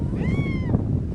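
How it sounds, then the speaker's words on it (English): A cat lets out a single clear, drawn-out meow close by, rising and falling over about a second against a steady outdoor background hiss. "There's my cat."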